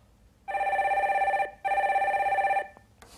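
A telephone rings twice with the next incoming call, two steady electronic trills about a second each separated by a short pause, clear and close in a quiet studio.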